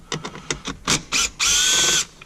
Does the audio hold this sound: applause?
no